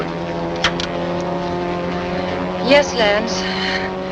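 Steady droning engine of a 1940s airplane, continuous and fairly loud inside the cabin, with a brief voice speaking over it.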